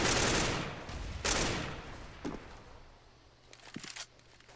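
Bursts of rifle fire from Counter-Strike on the Cobblestone map, blind fire sprayed at a position: two long loud volleys up front, then a few shorter, fainter shots with a scattered crack near the end.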